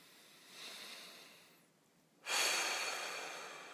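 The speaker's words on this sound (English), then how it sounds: "Take a deep breath." A single deep breath is taken: a soft, airy inhale, a brief lull, then a louder and longer exhale, close and quiet, with no speech.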